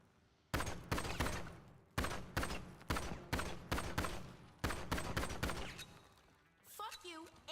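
Bursts of gunfire from a GTA Online gunfight come as loud, sharp shots in a rapid irregular volley, with brief pauses between clusters and a voice coming in near the end.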